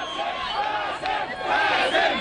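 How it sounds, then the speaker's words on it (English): A dense crowd of fans chants together outside a courthouse, a steady, loud mass of voices rising and falling in rhythmic waves throughout. "Crowds of fans chanted his name as he arrived in court."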